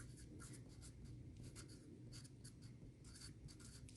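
Marker or chalk strokes scratch across a classroom board in quick bursts of squeaky scraping, faint and close, with no voices.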